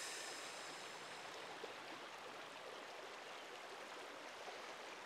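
The Bear River flows steadily from close by, a continuous broadband rush of running water with no pauses, even and moderately loud throughout.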